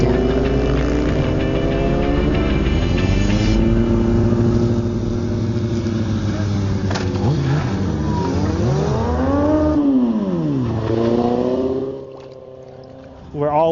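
Motorcycles ridden by a group of bikers in Charleston, South Carolina, rev and accelerate up close, engine pitch sweeping up and down continuously, with a brief drop near the end before the roar picks up again.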